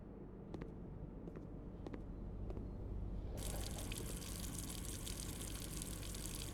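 Water running in a kitchen in the video game Blue Prince: a low hiss that swells into a steady, full rush from a tap partway through, with a few faint clicks before it starts.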